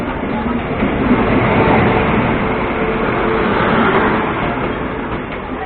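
The Delhi Dehradun Mussoorie Express pulls away as a steady, loud broadband rumble of rolling train noise, continuous throughout with no distinct horn or pauses.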